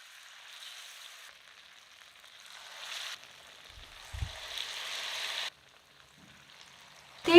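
Pakora snacks fry in hot oil over a medium flame, giving a soft, steady sizzling hiss that swells and drops away in stretches, with a brief low thump midway and a sharp clatter at the very end.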